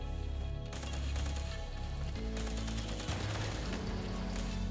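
Rapid gunfire in Fallout 76 during a mutated event: loud bursts of automatic weapon fire crackle in dense, overlapping volleys, with heavy low booms and sharp repeated shots continuing without pause, close and intense.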